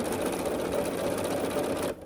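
A sewing machine runs in a steady, continuous burst while stitching the seams of a churn dash quilt block, close and loud. The motor cuts off abruptly near the end.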